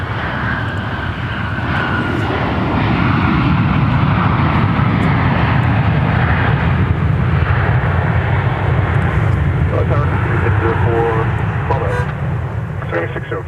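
An airplane at Minneapolis–St. Paul Airport roars loud and steady with a broad, sustained engine rumble, while radio chatter is heard underneath.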